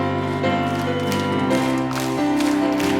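During a Korean church early-morning revival service, a congregation claps along to a loud worship song. The steady clapping blends with the sustained music and carries on without a break.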